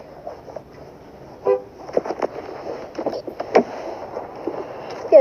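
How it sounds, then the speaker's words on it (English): A BMW X3 sounds its horn in a short, fairly loud burst with a second honk toward the end, set against light background noise and faint passing sounds. "BMW X3 horn."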